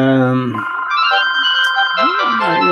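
A telephone rings loudly in short electronic tones that carry all the way through, with a voice talking over the ringing.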